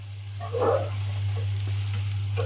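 Liver curry cooks in a pan with a soft, steady sizzle under a constant low hum, and a brief scraping stir rises and fades near the start.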